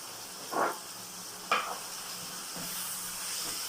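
Chicken with ground black pepper being stirred as it sautés in a pan for pinakbet, with two distinct bursts of sizzling and scraping, then a quieter steady fry, no voices.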